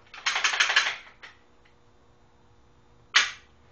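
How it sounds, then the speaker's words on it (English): A handgun being cleared, magazine pulled out and the mag well checked, makes a quick burst of close metallic rattling clicks, then a single sharp click, a pause, and one more crisp click. "clear my weapon out, magazine out, finger bang mag well"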